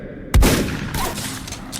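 A single loud gunshot rings out in a sci-fi alien horror audio drama, a sharp close blast followed by a decaying rumble and reverberant tail, with no voices.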